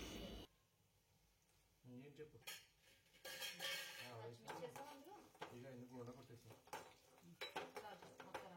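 A spoon clinks and scrapes around a bowl as gram flour chutney is stirred together with salt, chilli powder and turmeric, busy and close, with some kitchen clatter and a voice speaking now and then.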